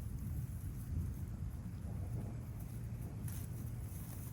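Thunder rolling during a thunderstorm over a field, a low continuous rumble with faint rain hiss, fairly quiet and distant throughout.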